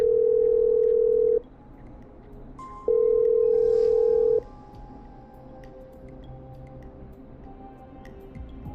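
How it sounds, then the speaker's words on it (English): Two steady telephone dial-tone beeps, each about a second and a half, with a short gap between, sound in the horror radio-host game Killer Frequency over a faint low room hum, followed by quiet background. "Okay, I'm dialing."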